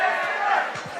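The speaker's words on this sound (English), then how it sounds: "you hear the chants from the crowd for PKG's Tanner Grant" Fight crowd at an MMA bout chanting for fighter Tanner Grant: a loud, sustained massed voice chant filling the arena, with a few dull thuds underneath.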